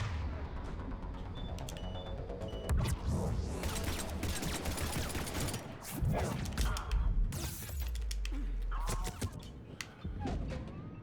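Gunfire from a firefight in the Mass Effect 3 video game: dense, continuous bursts of weapon fire with booms and impacts, loud and sustained throughout, mixed with game music and effects.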